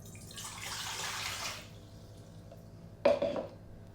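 Warm water, 300 ml, is poured into a bowl for whole-wheat bread dough, a smooth splashing stream lasting about a second and a half, followed later by a brief clatter of a container.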